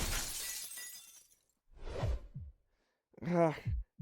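Window glass shattering in the Fate/stay night visual novel, a loud crash with trailing tinkle, followed by two short breathy vocal gasps or grunts after a brief silence.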